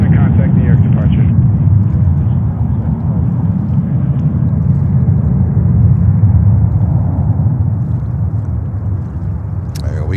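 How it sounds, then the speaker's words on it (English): Boeing 747-400 airliner arriving at JFK airport from Anchorage, a steady loud low jet rumble that holds without break across the whole stretch, with no voices in it. "There we go, 747-400 ASL coming in from Anchorage in Alaska"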